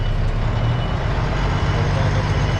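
Semi tractor trailer truck backing up, a loud, close, steady low diesel rumble with constant engine drone.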